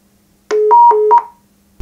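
Keys pressed on a telephone keypad give a quick run of four bright dual-tone beeps, closely spaced and loud, then silence.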